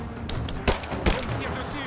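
Gunfire in the video game Rise of the Tomb Raider: two sharp shots stand out over a steady bed of game noise, with a voice talking throughout.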